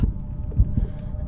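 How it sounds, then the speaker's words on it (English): A heartbeat effect from the horror video game Call of Cthulhu throbs as low, steady pulses with a faint hum behind them, close and moderately loud, with no talk. "Closing in, my heartbeat is increasing."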